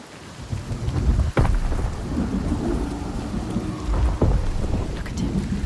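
A thunderstorm in the video game Senua's Saga: Hellblade II: steady heavy rain roars close by while deep thunder rumbles and cracks sharply a couple of times, with no speech.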